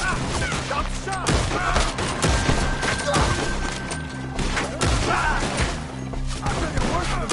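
A chaotic shootout in the video game Red Dead Redemption 2, with rapid overlapping gunshots, impacts and crashes, loud and continuous under shouted voices.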